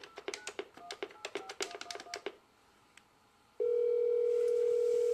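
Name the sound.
telephone dial tone and dialing a 770 number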